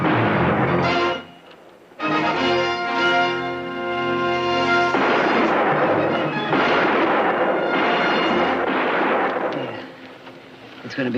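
Sharp gunshot bursts in a Western shootout, loud cracks that ring out with echoing tails, several shots spaced across the stretch with brief quiet gaps, no talking.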